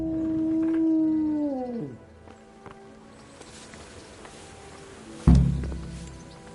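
Dogs howl in the medieval video game Kingdom Come: Deliverance, a sustained, loud, wavering wail that slides downward and dies away within two seconds. A quiet stretch follows, then an abrupt thud and rustle.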